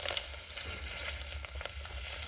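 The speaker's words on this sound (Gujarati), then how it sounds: "હવે આપણે તેલ ગરમ થઈ ગયું છે, આ જીરું નાખી દઈએ અને આ હિંગ નાખી દઈએ થોડી, અને આ મીઠો લીમડો" Cumin seeds, asafoetida and curry leaves sizzling steadily in hot oil, a loud continuous crackling fry close up with no talk.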